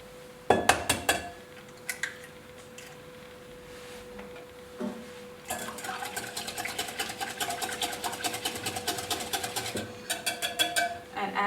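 Milk and an egg whisked together in a bowl, at first a few sharp clinks against the side, then a quick, continuous rattling beat of the whisk that runs to the end, with a steady hum in the background.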